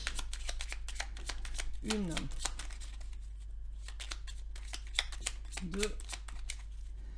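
Tarot cards are shuffled in soft riffling bursts and then drawn, quiet and close, while a voice counts aloud between them.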